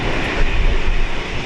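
An airliner at Brisbane International Airport roars with a loud, broad, steady engine rumble heavy in the low end, sustained and close with no pauses.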